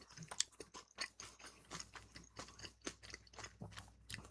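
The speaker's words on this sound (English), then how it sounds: "sorry if you guys can hear me chewing" A person chews food right next to a microphone, with close, wet crunching and biting in a steady irregular rhythm, moderately loud and without talk.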